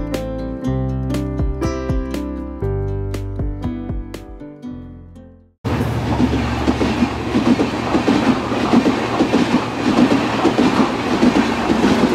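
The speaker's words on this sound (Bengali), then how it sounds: "এটা হচ্ছে মৈত্রী এক্সপ্রেস।" The Maitree Express passenger train, headed into Bangladesh via Darshana, rumbles past with a loud, continuous roar and rhythmic wheel clatter close by, after a few seconds of piano music.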